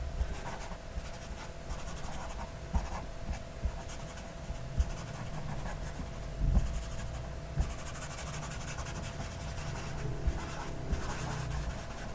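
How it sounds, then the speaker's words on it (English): A folded tissue smudging a pencil drawing of an eye on paper, giving soft continuous rubbing and scratching strokes, quiet and close, with a few light taps scattered through. "it can be quite handy to fold a tissue so you can begin to smudge"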